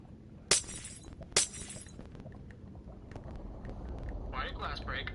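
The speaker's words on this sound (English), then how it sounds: "Why did glass break?" Two sharp glass-shatter effects from the Minecraft video game burst out about a second apart, followed by a quieter stretch and a voice speaking at the end.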